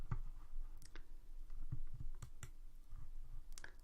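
A computer mouse clicks several times at irregular intervals. The clicks are sharp and quiet over faint background hiss.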